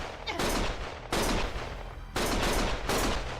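Gunfire in Lost Judgment comes as loud, dense bursts of rapid shots, three or four long volleys separated by brief pauses.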